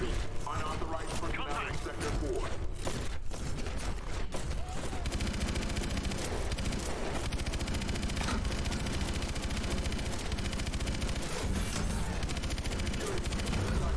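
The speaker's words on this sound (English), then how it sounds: "Rocket launch." Loud, dense gunfire and explosive rocket fire from the Call of Duty: Advanced Warfare video game, sustained bursts and booms filling the whole stretch with scattered voices underneath.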